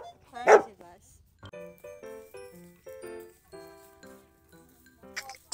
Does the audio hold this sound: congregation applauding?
no